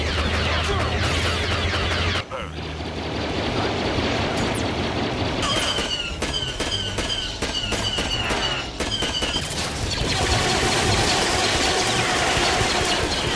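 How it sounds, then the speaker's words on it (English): Battle sounds from Star Wars Battlefront (2004): rapid blaster fire in bursts, sharp zaps and explosive booms from grenades and rocket launchers, loud and continuous over a rumbling engine-like background. "Everything from blaster sounds to what the grenades and the rocket launchers sound like are all different compared to which faction you're playing as"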